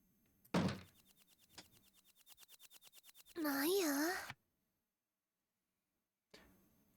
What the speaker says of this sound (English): Kai heion. In other words, the doors open and close sound.